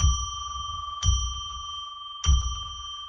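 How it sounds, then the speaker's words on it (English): Two rings of a small metal bell, each a bright sustained ding with long ringing overtones, about a second apart over a low rumbling background, struck to declare a sacred space during a live psychic radio show. "Let's ring a bell 3 times to declare sacred space."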